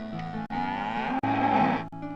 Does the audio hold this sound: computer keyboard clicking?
no